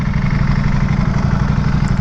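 A Ducati Panigale V4S with its 1100cc V4 engine and a loud exhaust rumbles steadily and close up, a deep even throb with no talking over it.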